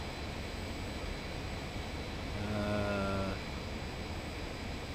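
Boeing 737 jet engines running on auto throttle in the Aerofly FS 4 flight simulator, heard as a steady, faint cockpit drone, with a brief tonal whine rising over it near the middle before fading back.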